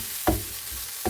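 Vegetables fry in a pan for a flour-free vegetable bake, a steady close sizzle with two brief stirring scrapes, one near the start and one at the end.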